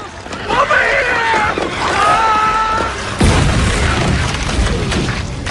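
A suicide bomb explosion in a zombie film about an ancient parasite: a deep boom bursts out about three seconds in and rumbles on, loud, after a stretch of dense, dramatic mixed sound.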